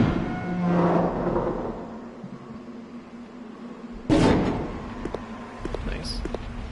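A heavy door breaking apart in Resident Evil Code: Veronica X, a sudden loud crash with a burst of debris midway, set against low rumbling game ambience and scattered smaller impacts afterward.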